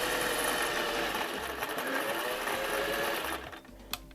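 A very fast sewing machine runs almost without a break, stitching a pocket on a placemat mini tote. Its dense, steady whirring carries for about three seconds, then stops, leaving a brief soft click.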